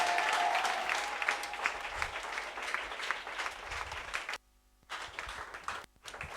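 A church congregation claps and cheers in praise of the Lord, with loud, dense applause that briefly drops out twice before picking up again.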